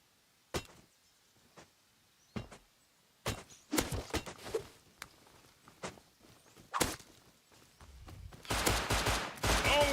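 Gunfire in a video game, heard as scattered sharp cracks and shots that grow denser into a sustained rapid burst near the end, with no talk.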